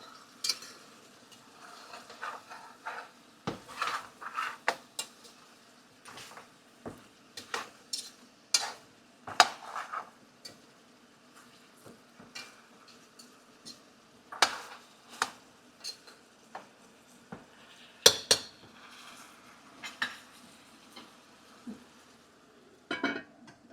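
Oxtail browning in a pot, heard as a faint steady sizzle broken by frequent sharp clicks and scrapes of a utensil stirring against the pot, irregular and close.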